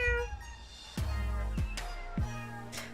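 A street cat in the video game Boyfriend Dungeon meows several times in a row, clear and fairly close, over a steady bed of sustained tonal game music.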